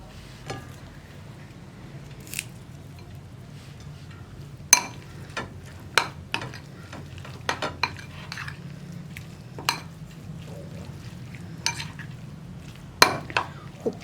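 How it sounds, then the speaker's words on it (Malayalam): A spoon stirs beetroot kichadi with curd and curry leaves, giving a soft, quiet mixing sound with scattered sharp clinks against the vessel at irregular intervals. "ഇനി ഇതെല്ലാം ചേർത്ത് മിക്സ് ചെയ്യുക."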